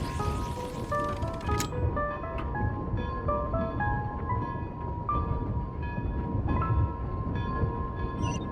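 A train pulls into Snezhnograd station in the video game Genshin Impact, a steady rattling rumble with a bright chiming tone and several sharp clicks and clanks along the way, heard alone without talk.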